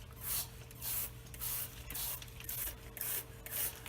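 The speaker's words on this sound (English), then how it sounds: "Scrub it, pull that dirt right out." A Mr. Clean Magic Eraser scrubs a tire whitewall in rhythmic back-and-forth strokes, about seven close swishing rubs at an even pace over a low steady hum.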